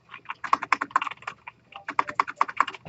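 Rapid typing on a computer keyboard during a coding lecture, two close bursts of crisp key clicks separated by a short pause, with no talking.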